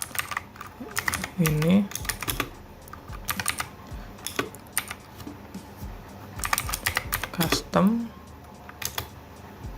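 Computer keyboard typing in bursts of quick clicks while text is entered at a command line, with a voice speaking over parts of it.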